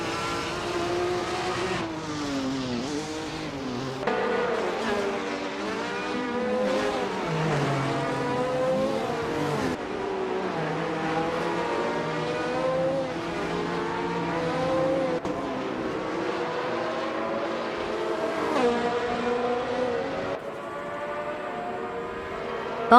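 Race cars driven by bots in a video game roar past one after another, engines whining up and down through gear changes in overlapping, continuous loud waves of sound.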